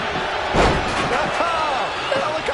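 Heavy body slam from a wrestling takedown in WWE 2K24 on PS5: one loud thud near the start, then crowd noise and an excited commentator talking over it.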